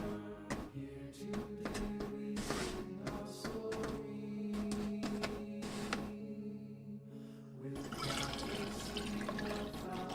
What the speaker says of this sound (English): I'm just gonna pour myself some water.